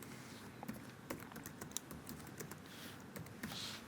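A rapid run of keystrokes on a computer keyboard as the words "how are you" are typed, with irregular light clicks over a steady low background hum and no talking.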